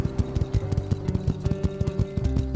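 Horse hooves clip-clopping steadily as the animal pulls a cart in My Time at Sandrock, a regular rhythmic beat of hoof hits over a low music bed, close and clear.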